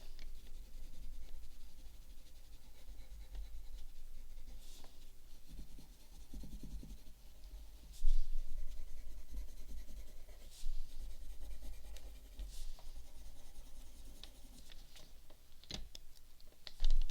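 Pen or pencil scratches across paper while a face is drawn, close and intimate, with irregular strokes, taps and short scribbles throughout.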